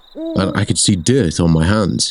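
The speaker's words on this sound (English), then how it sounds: "I could hear an owl hooting" An owl hoots, a brief, rising tonal call near the start, then someone narrates steadily over the rest.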